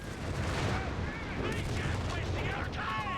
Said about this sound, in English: First shot from the Stug D.